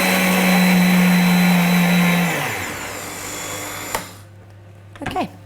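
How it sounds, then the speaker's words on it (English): Blender running at high speed through coconut with a strong steady whir, then the motor spins down over a couple of seconds and stops, followed by a faint clunk and a short rattle. "if you keep blending coconut you can actually create your own coconut butter"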